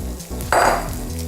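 Cabbage hits a pan of hot oil with mustard and cumin seeds, setting off a sudden loud hiss of sizzling over steady frying, close by, with no voices.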